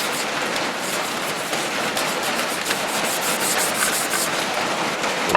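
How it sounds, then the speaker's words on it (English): A carved wooden gunstock being sanded all over by hand, a steady, even rasping rub that continues without pause at close range. "I'm actually going to sand the whole stock at this point"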